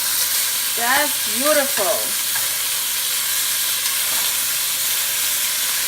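Beef short ribs sear and sizzle in a hot pan for braising, a steady bright crackling hiss filling the whole stretch, with a brief remark spoken over it near the start.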